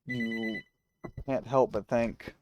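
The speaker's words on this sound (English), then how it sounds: "Sorry about that phone call" A telephone rings once with a clear electronic trill during a recording, then someone speaks right afterward.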